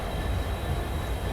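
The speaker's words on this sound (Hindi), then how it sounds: "अपने शेड्यूल टाइम से 1 घंटे 23 मिनट की देरी से फाइनली अभी अपनी ट्रेन निकल रही है" The Tinsukia Bangalore Express pulling out of Lumding Junction, a loud steady rumble of rolling carriages with wheel-on-rail roar and a faint high squeal, heard from on board with no talking.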